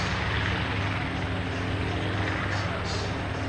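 The piston engines of the B-25 Mitchell bomber Panchito drone steadily at an air show, a loud, dense, unbroken roar with no clear change in pitch.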